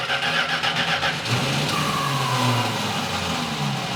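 A long-dormant Plymouth Barracuda engine cranks and catches after sitting for 27 years, a loud close rough churning that settles into an uneven running rumble with no voices over it.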